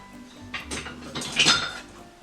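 Guacamole scraped and spooned from one bowl into another, giving a few short clinks and scrapes of utensil against dishware, close and fairly quiet, with no talking.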